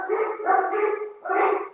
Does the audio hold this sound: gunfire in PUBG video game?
no